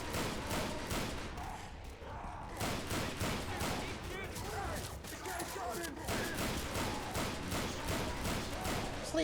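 Dense bursts of rapid gunfire and fusillades in Left 4 Dead 2, loud and continuous with thuds in between, while players talk over the shooting.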